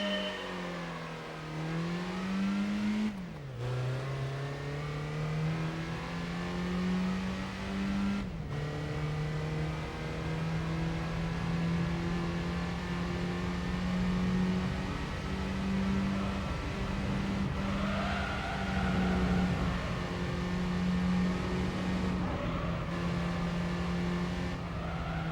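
Race car engine in Gran Turismo 3 on PS2, a loud steady drone that climbs and drops with gear changes and throttle lifts, running continuously with brief cuts.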